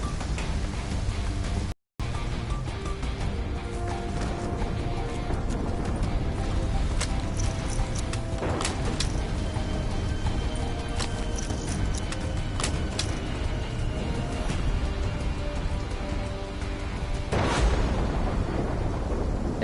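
A steady wash of heavy rain with rolling thunder in a Call of Duty game, a dense, continuous downpour under a low rumble, with a brief dropout near the start and a louder crack of thunder toward the end.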